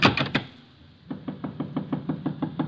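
A door knocked in a 1950s Nero Wolfe radio drama: three sharp, close raps, a short pause, then a steady run of softer, evenly spaced knocks, with no voices over them.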